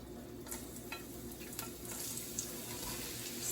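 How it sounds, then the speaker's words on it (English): Thinly sliced carrots, onions and peppers sizzle softly in a pan, with a few scraping stirs and light clinks over a steady low fry, fairly quiet and with no talk. "I'm going to get my veggies sauteed."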